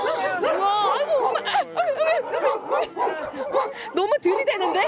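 Many dogs at a large animal shelter bark and yip together, a dense close chorus of overlapping barks and whines that fills the whole stretch, with people talking faintly underneath.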